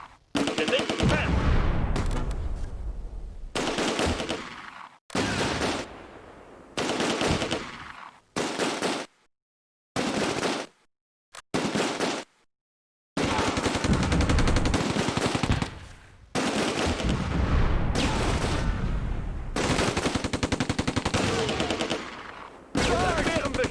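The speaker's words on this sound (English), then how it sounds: "Unter schwerem Beschuss." Heavy gunfire and machine-gun bursts from Close Combat: A Bridge Too Far on a WWII battlefield, loud sustained volleys broken by short pauses and separate isolated shots.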